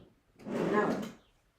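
A drawer slides open with a soft wooden rumble lasting under a second, quiet and nearby, during a search for misplaced items.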